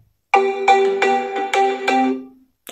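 A Realme Note 60 phone plays a ringtone through its small speaker: five bright, evenly spaced melodic tones ring out loud and clear over about two seconds before fading to silence.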